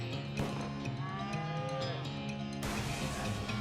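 A cow moos in the western video game West of Loathing, one long drawn-out low call that wavers in pitch over a quiet background, with no speech.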